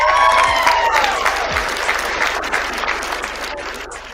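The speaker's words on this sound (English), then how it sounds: "Give him a hand clap." A live audience claps and cheers steadily for a guest, the applause loud and dense at first and gradually thinning.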